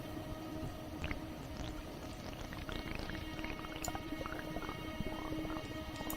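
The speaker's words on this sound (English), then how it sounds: "you begin to hear water burbling around you" A soft, continuous burbling and trickling of water close by, with small bubbling pops and drips layered over a steady low wash, used as an audio drama effect.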